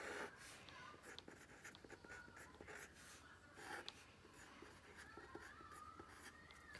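Pen or marker scratching steadily across a writing surface while an equation is written out, a close, continuous scraping with short strokes and brief pauses, faint overall.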